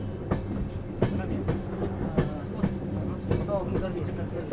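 A passenger train, the Lucknow Pune Express, runs on the rails of an electric line just past Kopargaon station, its steady low rumble broken by regular clickety-clack wheel beats over the rail joints.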